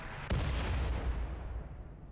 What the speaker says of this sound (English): That was a massive explosion.